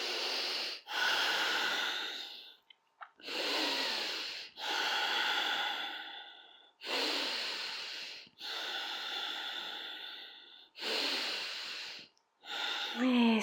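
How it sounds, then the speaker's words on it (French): Deep breaths drawn high into the chest during seated chair yoga, a series of long, loud, close inhales and exhales in an even rhythm, alone without speech. "Respire haut dans le thorax."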